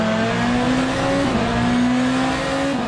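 A race car engine in Le Mans Ultimate holds a loud, steady high-pitched whine that climbs gradually, with a brief dip as it shifts near the end, alone without talk.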